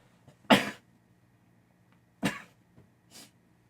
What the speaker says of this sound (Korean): 갑자기 재채기가 나가지고 죄송합니다